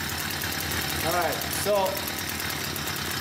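A small engine runs at a steady idle, a constant buzzing drone throughout, with someone briefly speaking over it.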